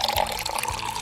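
Liquid from a drink being poured out, a steady splashing trickle of water-like fluid running for about a second at moderate loudness, with no talk.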